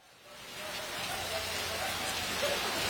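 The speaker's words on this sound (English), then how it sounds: "monsoon rains like this" Monsoon rain pours steadily in Tapachula, a broad continuous hiss of drops hitting surfaces that swells in the first moments and then holds constant, close and enveloping, with no voices over it.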